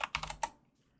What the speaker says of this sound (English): My typing's gotten a little bit better too.